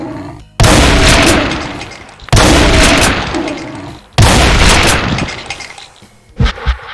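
Three loud blasts from grenades exploding in a modded Doom, each hitting abruptly and rumbling with debris for over a second before the next, followed by a couple of sharper short bangs.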